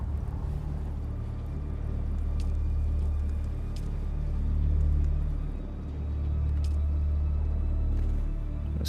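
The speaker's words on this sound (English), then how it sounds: "A storm coming" In the video game Dune Awakening, a storm rolls in as a steady low rumble, swelling and easing over several seconds, with faint scattered clicks and no speech.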